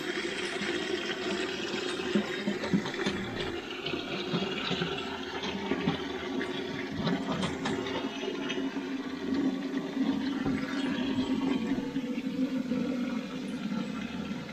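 A toilet cistern set for an elderly person's use, flushing and refilling as a continuous rushing, gurgling stream of water that carries on for over fourteen seconds, with no talk.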